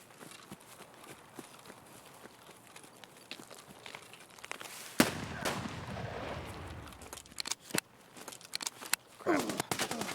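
Rapid bursts of gunfire from enemy players in Escape from Tarkov, sharp cracks scattered across the scene with a heavier cluster midway, mixed with footsteps and movement noise.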